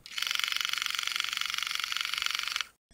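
A defective product with a rotating motor runs with an abnormal, rapidly pulsing rattle, a fast regular stutter layered on a whirring buzz for about two and a half seconds before cutting off.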